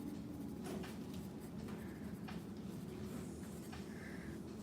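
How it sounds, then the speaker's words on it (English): A pen writing a first and last name on paper, faint scratchy strokes in short bursts over a steady low background hum. "And then write our name down here."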